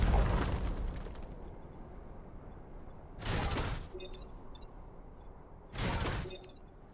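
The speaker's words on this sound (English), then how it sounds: "Gemini missiles. Should we test it?" Gemini missiles in the video game Rift Walkers launch and detonate as a noisy blast fades out, followed by two separate sharp explosive bursts a few seconds apart, each with crackling debris, over a low hum of game noise.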